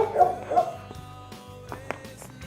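A dog yips and barks a few times during a disc dog training session at a dojo, with short high sharp calls that fade into quieter whimpering. The sounds are fairly close but soft, with faint background noise.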